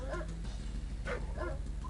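Dogs in Command and Conquer: Red Alert bark and yip in a short, busy flurry of several overlapping barks, loud and close against a dense low background.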